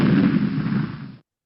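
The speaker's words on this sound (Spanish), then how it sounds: "escuchamos como un disparo" A single loud gunshot sound effect hits as a booming blast and rumbles for about a second before cutting off abruptly into silence.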